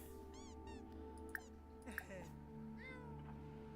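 A cat in The Sims 4 meows several times in short, high, chirpy cries spread across a few seconds, fairly quiet, over soft game background music.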